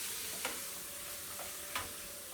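Soft, continuous sizzle of lentil-made peppers frying in a pan over a gas flame, with a few light clicks and stirring taps scattered through the steady hiss.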